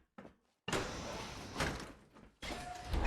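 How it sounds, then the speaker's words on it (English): Doors in Fallout 4 grind open, with a brief clunk followed by a loud sustained mechanical rumbling slide, then a second heavy opening sound starting with a sharp onset. "The doors."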